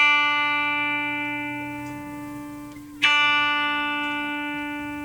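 A single high E string on an electric guitar, tuned down a whole step to D, rings out as a steady sustained note, briefly decays, then is plucked again near three seconds and sustains clearly with no talking.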